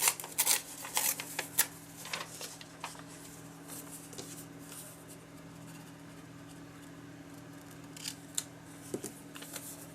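Something being ripped or torn open, quick crisp bursts clustered at the start and again near the end, with a steady low hum underneath and no talking.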